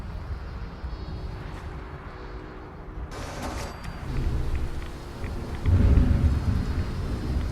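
Thunder from a Rad Storm in the video game Fallout 4 rumbles low and steady under falling rain, swelling louder toward the end with a deep roll, and no voices are heard.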